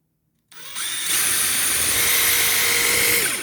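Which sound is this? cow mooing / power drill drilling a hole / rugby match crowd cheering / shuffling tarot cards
power drill drilling a hole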